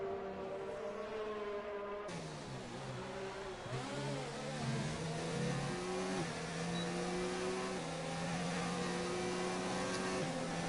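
Alfa and McLaren racing cars run side by side in a simulated race at an Italian circuit. Their engines drone and rev loudly, with pitch stepping up through gear changes and overlapping tones.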